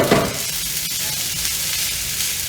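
Mackerel and rice heating in a pan, giving a steady, even sizzle throughout with a soft clatter at the very start and no voices.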